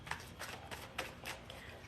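Playing cards being shuffled by hand during a live reading session, a close run of soft, papery riffling bursts repeating every quarter second or so, with no talking over them.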